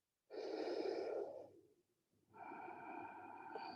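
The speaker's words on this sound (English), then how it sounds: "These deep back bends with the breath of fire." Forceful breath of fire breathing during a deep yoga back bend, heard as a loud, close rush of breath that stops briefly, then resumes and keeps going.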